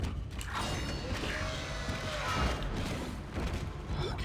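A creaking, grinding mechanical door slowly opens in the sci-fi horror game Dead Space, set in a medical deck, a long continuous scrape and groan with a rumbling undertone over several seconds.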